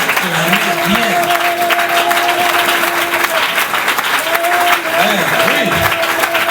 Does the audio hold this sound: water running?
no